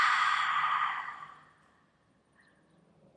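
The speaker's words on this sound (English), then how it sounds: "Exhale." A slow, audible exhale during a yin yoga hold, breathy and close, fading gradually over about a second and a half into near silence.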